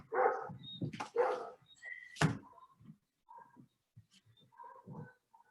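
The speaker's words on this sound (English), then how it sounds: "I have a very enthusiastic dog outside" An excited dog barking outdoors, several loud, irregular barks and yelps up close, followed by quieter scattered yips and movement.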